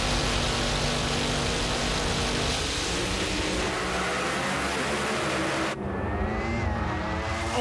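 Top Alcohol Dragster cars launch down the strip at the Las Vegas Nationals, a loud sustained engine roar with harsh blaring exhaust that holds steady, then cuts sharply to a thinner, more distant whine.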